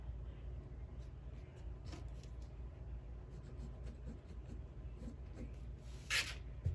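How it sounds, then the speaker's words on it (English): A pen or marker drawn along a ruler on fabric while sewing napkins, a faint, steady scratching rub close by with a few light taps and a brief louder scrape near the end. "Draw a line there."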